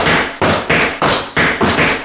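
A country door being kicked during a cottage renovation gives six loud, evenly spaced heavy thuds, each ringing briefly before the next, with no talking.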